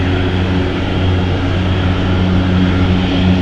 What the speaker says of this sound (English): Enter Air has taken off on